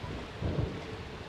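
Rain falls steadily with a low rumble of thunder in the video game Deadly Premonition Origins, a continuous wash of noise that swells briefly midway.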